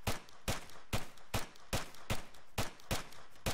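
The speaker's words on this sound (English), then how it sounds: "However, we have the submachine gun." Submachine gun fire in ArmA 3 with bullets ricocheting, heard as evenly spaced sharp shots, about eight in a row at a steady rhythm, loud and close with brief ringing tails.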